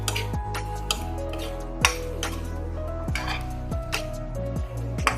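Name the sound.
onion, ridge gourd and tomato frying and stirred in a wok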